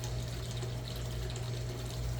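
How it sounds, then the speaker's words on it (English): A garden fountain splashes continuously beside a worm bin: an even, soft rush of falling water with no breaks, under a low background hum. "you can probably hear the fountain"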